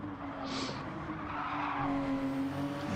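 GT3 race car at the Nürburgring Nordschleife, tyres squealing in a brief skid over a continuous engine drone at moderate distance, with no voices.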